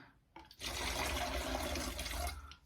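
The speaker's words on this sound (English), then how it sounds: "we're just going to put all this straight into our bottle, which is basically an old pop bottle" Liquid pours steadily into an old washed-out plastic pop bottle while homemade fabric softener is being made, a close, continuous splashing gush lasting about two seconds before tapering off.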